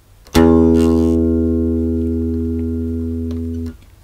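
One plucked bass guitar note, D sharp on the D string, starts with a sharp attack and sustains with full harmonics, slowly fading for over three seconds before it is damped; no voices.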